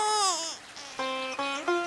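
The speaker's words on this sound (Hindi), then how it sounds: "इधर एक छोटा बच्चा रो रहा है।" A small baby cries by a river, giving a few close, wailing, tonal sobs in short bursts that fall and rise, with brief breaks between cries.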